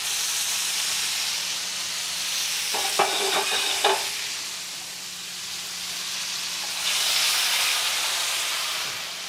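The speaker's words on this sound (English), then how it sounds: "I put them in olive oil and just cook them to a little bit to caramelize the sugar on it" Pear slices caramelizing in olive oil hiss and sizzle steadily in a pan, with a brief burst of clinking utensil taps partway through and the sizzle swelling louder again near the end.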